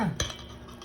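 A utensil stirring melted butter into a low-carb cheese pandesal mixture in a bowl, a single sharp scrape and clink followed by soft mixing sounds, close and brief.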